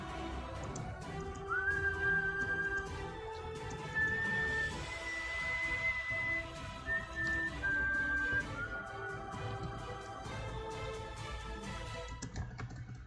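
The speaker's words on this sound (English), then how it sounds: "When you don't know the piece but still want to whistle along" A person whistles along to a piece of music, sustained thin whistled notes rising and falling over several seconds above continuous background music and clicking keyboard typing, with no speech.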